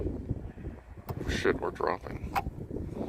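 Blustery wind buffets a drone's microphone outdoors at a marshy nature centre, a steady rumbling roar with louder gusts throughout, while someone talks excitedly over it.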